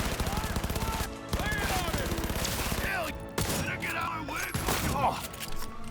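Shotgun fire in a first-person shooter video game, a busy stretch of repeated loud blasts and impacts layered over game sounds and effects, with a voice talking through it.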